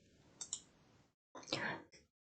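A computer mouse clicks a few times while slides are edited in PowerPoint, with crisp, close, quiet clicks split by short silences in a hushed room.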